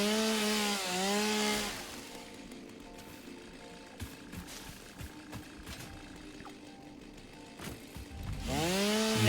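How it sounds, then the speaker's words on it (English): Chainsaw cutting through trees in the factory-building game Satisfactory, a steady buzzing drone with rising and falling revs at the start and end and a quieter grinding stretch in between. "The chainsaw demands sacrifice."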